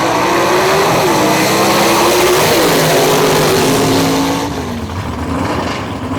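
High-horsepower drag race car at a Knoxville S.E.G.A. race pulling hard through the gears, a loud sustained engine roar with rising pitch steps between shifts before it fades into the distance.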